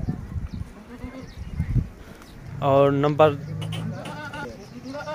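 Goats on a farm bleat in a few short, harmonic calls, loud and close, with someone talking over and between them.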